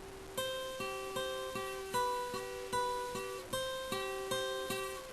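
A single guitar note on the B string at the 13th fret is plucked repeatedly in a steady rhythm, a dozen or so close, clean attacks each ringing briefly, from a riff.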